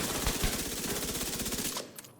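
Automatic fire from a gun in a video game as a full magazine is emptied: a rapid, even stream of shots that stops abruptly near the end, followed by a couple of faint mechanical clicks.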